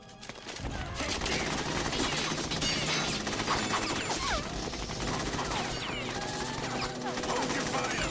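Dense automatic gunfire rattles in Metal Gear Solid 2, sustained bursts with crashes and impacts, loud and nearly continuous after a brief quiet start, with shouting mixed in.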